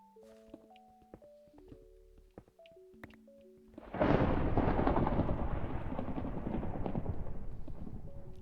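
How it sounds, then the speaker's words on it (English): A loud rumbling thunderclap in the Minecraft video game breaks in after quieter tonal game sounds, then rolls on as a sustained broadband roar that stays strong to the end. "Damn, that thunder is terrifying."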